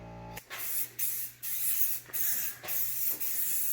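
Repeated bursts of spray paint hiss in a garage, roughly six short pulses with brief gaps between them, close and fairly quiet, with no voices.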